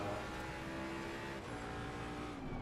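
A McLaren race car in the Assetto Corsa Competizione video game, its engine droning steadily at high revs with layered harmonic whine, loud and continuous with no talking over it.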